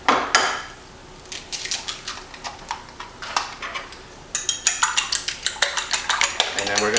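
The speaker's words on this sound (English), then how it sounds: "we're going to beat down our eggs a little bit" Eggs being beaten in a bowl for a chicken cordon bleu casserole, a utensil clinking rapidly and repeatedly against the bowl in steady close strokes, with no voices.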